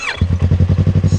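A Yamaha R3 320cc fuel-injected motorcycle engine, a custom 2015 bike, fires up and settles into a close, steady, rapid idle thump with a quick starter whir at the very beginning.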